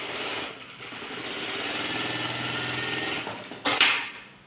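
A single needle lockstitch sewing machine stitches steadily at close range, its fast mechanical whirr running continuously with stitch length set to 4, before stopping with a brief clatter near the end.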